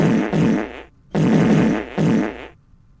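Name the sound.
fart sound effect from the video game Luna Abyss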